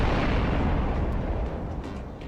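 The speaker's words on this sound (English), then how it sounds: "before unleashing the siege cannon in direct fire mode" A siege cannon fires in direct fire mode as a Lancer tabletop RPG sound effect, giving one loud, close blast that rolls off into a rumbling decay.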